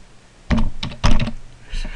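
Short bursts of keystrokes on a computer keyboard as a server name is typed in Minecraft, three clustered clicks close and clear with brief pauses between, no talking.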